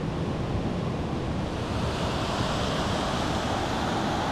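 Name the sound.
rushing water of a large river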